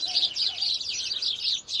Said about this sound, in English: Gosh, look at those birds.